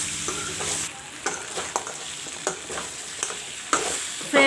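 Mutton sizzles and fries with masala in a hot pan, a steady crackling hiss broken by repeated scrapes and stirs of a spoon against the pan, close and loud with no voices.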